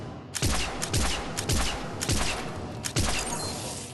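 Arc Pistol firing at long range in Mass Effect 3 target practice: about eight loud, sharp shots with crackling electric tails, fired in quick, uneven succession with no talking.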